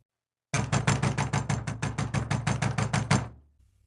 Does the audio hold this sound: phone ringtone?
no